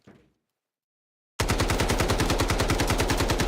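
Rapid automatic hip-fire bursts from a rifle in the Delta Force shooter, loud, close and evenly rhythmic, starting abruptly after a brief faint sound and a silent pause, then continuing without a break.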